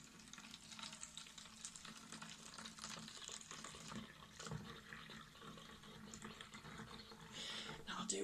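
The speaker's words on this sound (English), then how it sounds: "fill the bottle with water, nearly up to the top" Water pours into a bottle, filling it nearly to the top, as a soft, uneven splashing rush that rises and falls in bursts, faint and fairly close.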